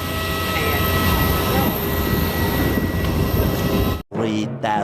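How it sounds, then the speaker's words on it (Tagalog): Steady broadband roar inside a jet airliner cabin in flight, en route to Boracay Island in the Philippines, a constant loud drone with low hum that cuts out abruptly near the end before brief muffled sounds. "So we are riding now in a jet plane."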